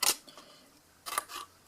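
Paper being cut with small scissors during card making: two bursts of crisp snipping, one at the start and another about a second later, with soft handling rustle between and no voices.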